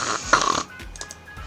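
A female character in the video game Snowbound Blood snores gently, with a rough nasal snore burst at the start, then soft breathy pauses and quieter follow-up breaths.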